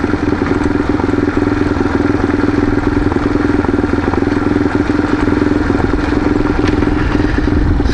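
A motorcycle cruises along a mountain road on the Doublehead Gap ride, its engine droning loud and steady throughout with wind rumble and faint clatter, no talking.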